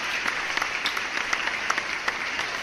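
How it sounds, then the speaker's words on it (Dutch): Sustained applause of many hands clapping steadily throughout, dense and lively, with no talking over it. "Applaus, applaus alsjeblieft."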